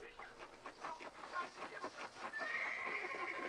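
A horse in a video game whinnies in a fairly faint, shaky neigh amid low background noise and soft hoof-like thuds.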